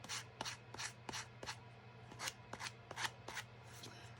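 A sander is drawn across the cut paper edges of a handmade junk journal, giving about a dozen quick rasping strokes in a steady rhythm over a low background hum, close up, with no talking.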